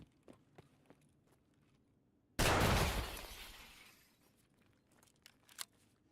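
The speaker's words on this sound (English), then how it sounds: "Just heard glass break this way" In Escape From Tarkov, a pane of glass suddenly shatters with one loud crash that rings off over about a second, preceded and followed by quiet footsteps and small scuffs.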